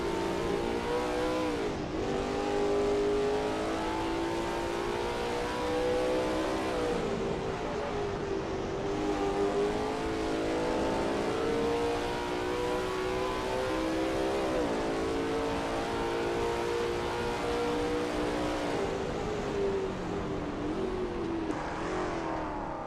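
Lola T70 MkII Spyder race car in a racing video game at Road America, its engine droning loudly and steadily, with pitch rising and falling through gear changes and corners, no voices on top.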